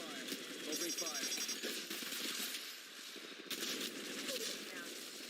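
Rapid automatic gunfire from Apex Legends Mobile rattles almost continuously through the clip, loud and dense with short lulls, with busy game effects layered underneath.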